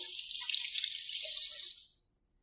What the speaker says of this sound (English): We want to give them a good rinse under water to make sure they're nice and clean